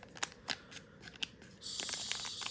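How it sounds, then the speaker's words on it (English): Scissors snipping open the foil wrapper of a Lorwyn Eclipsed collector booster pack, several crisp close cuts in a loose rhythm, then a sustained crinkly rustle of the wrapper. "I much prefer to snip rather than use that pull tab"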